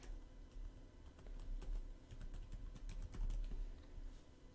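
Quick, irregular clicking of a computer keyboard as an email address is typed in, soft close keystrokes coming in uneven bursts with no voices.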